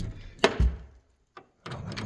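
A locked farmhouse door in Portugal is tried, giving a couple of sharp wooden knocks and a low thunk as it holds fast, close by, followed by a brief rattle after a short silence.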